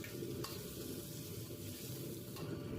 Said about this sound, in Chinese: 接着下入葱姜蒜炒香